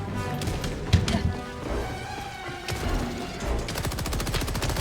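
Automated turret fire in a video game, rapid bursts of gunshots rattling in quick succession, loud and close, with a sharp impact near the start and a fast fusillade building toward the end.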